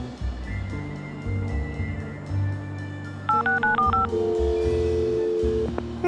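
Telephone keypad tones beep in a quick series of dialing blips within the Leisure Suit Larry video game, over a steady low musical background and ambient hum.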